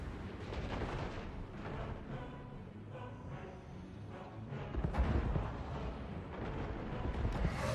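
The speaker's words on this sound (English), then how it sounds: "Damn, those organ guns. They are hurting." Organ guns fire in the video game Total War: Warhammer 2, a dense barrage of booming artillery blasts and rumbling explosions that rolls on without pause, growing heavier near the end, with no talking.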